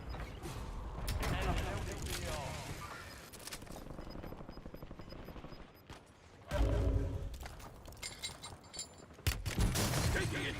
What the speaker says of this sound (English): What a perfect mortar that fucker hit.